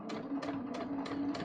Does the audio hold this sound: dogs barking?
no